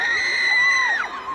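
A concert crowd cheers and screams in a continuous loud roar, with high sustained shrieks riding over the mass of voices.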